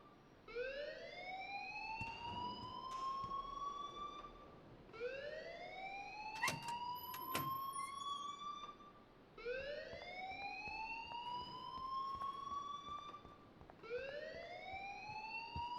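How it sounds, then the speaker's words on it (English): A school alarm wailing in the video game Life is Strange: Remastered, four rising siren sweeps repeating every few seconds, moderately distant, with faint clatter between cycles. "please turn off that alarm since that's your job"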